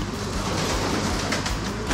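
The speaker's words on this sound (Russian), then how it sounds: "такое количество голубей в одном пространстве" A dense flock of pigeons at a dovecote, a busy continuous mass of cooing, fluttering and rustling heard up close without talk.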